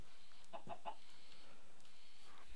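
A chicken in the video game Minecraft, a few short quiet clucks in quick succession over a faint background, with no voices.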